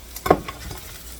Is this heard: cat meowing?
no